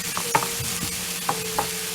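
Pepper stirred into an oil-hot frying pan over a high flame, giving a steady sizzle broken by a few short scraping stirs.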